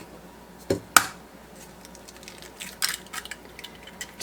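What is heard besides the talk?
cracking fresh hen eggs into a separate bowl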